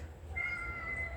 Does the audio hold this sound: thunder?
no